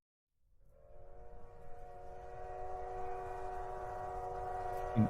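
Train sound effect with a steady horn chord that fades in and holds, sustained and fairly loud over a low rumble of rolling rail noise, with a brief thump near the end.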